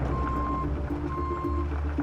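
A tow truck backing in at a suburban wreck site sounds two long, steady reversing beeps over a loud rumbling diesel engine idle.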